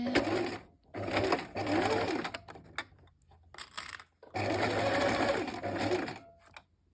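A sewing machine runs back-and-forth stitches through fabric while an elastic headband with a bow is made from scraps, in three close, steady bursts separated by short pauses, with no talking.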